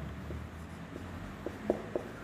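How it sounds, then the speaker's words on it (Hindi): A pen scratches on paper nearby, with soft, faint strokes and a few slightly louder taps over a low room hum, no talking. "मैं लिखता जा रहा हूँ, आप भी लिखती जाइए"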